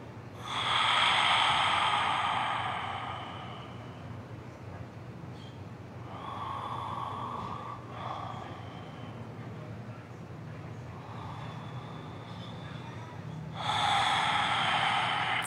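Slow, deep yoga breathing in a calm restorative session: long, airy inhales and exhales come close and clear, in several drawn-out swells with quieter pauses between them.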